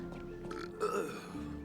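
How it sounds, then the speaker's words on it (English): A short, wet-sounding burp rises briefly in the middle of a quiet room, close and low, with faint background noise around it. "That was a wet burp."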